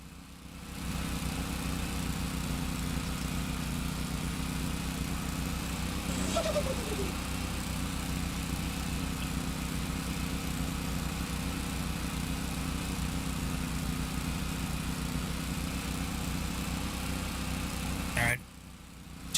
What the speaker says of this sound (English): Yep, it is a lawnmower simulator.